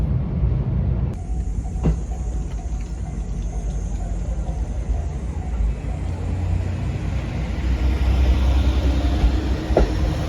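The SL Yamaguchi steam locomotive departs Senpuku station with a loud, continuous rumble of the train and wheels, steady and close throughout, with a couple of faint clicks.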